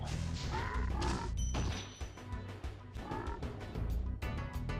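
Frog enemies are attacked in the video game Spyro the Dragon, with croaking and repeated smashing, thwacking hits in a dense, loud stream of game effects.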